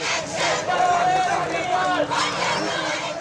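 Polytechnic students at a street protest in Rajshahi chant slogans together, a loud continuous crowd of raised voices close by, with rising shouted phrases over steady babble.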